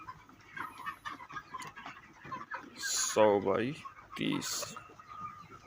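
Chickens cluck in an Indian poultry farm shed that holds 2000 chicks, with a loud nearby squawk midway amid a busy background of birds, while someone speaks over it.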